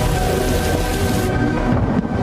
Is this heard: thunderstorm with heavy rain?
yes